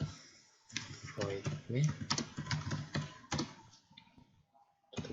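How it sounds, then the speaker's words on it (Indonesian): Keys on a computer keyboard tapped in quick irregular bursts while Java code is written, close and crisp, mixed with someone speaking Indonesian throughout. "kita ketik"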